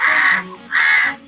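A cartoon crow gives two loud, harsh caws, each drawn out and hoarse, separated by a short gap and heard up close with no other sound around them.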